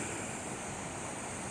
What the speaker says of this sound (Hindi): ये देखिए पानी इसमें से पिघल रहा है